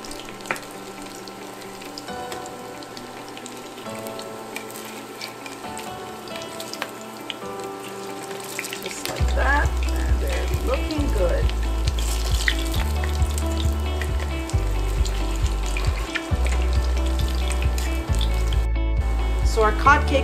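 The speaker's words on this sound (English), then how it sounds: "we're gonna fry the cod cakes about 1 minute on each side" Portuguese cod cakes of shredded cod and potato frying in hot oil, a steady soft sizzle under low kitchen clatter, joined after a few seconds by heavy low rumbling and bursts of louder crackle.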